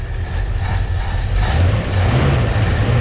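An abandoned 1964 Ford Fairlane, Thunderbolt clone, running for the first time in 29 years after a carburetor cleaning and new points, its engine loud and close as it rumbles and revs up unevenly.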